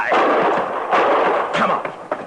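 Sharp gunshot sound effects in an old western radio drama crack in quick succession, loud and close with a reverberant tail.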